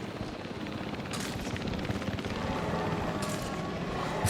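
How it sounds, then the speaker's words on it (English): Gunfire from a helicopter-mounted tranquilizer gun in Jurassic World Evolution 3, a steady rotor drone under a few sharp bursts of shots chasing a large running dinosaur. "Seriously, a helicopter with a tranquilizer gun with something this big that's running around scared."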